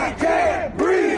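A protest crowd shouting together in two swelling chant-like cries, loud and dense, with no clear individual voices.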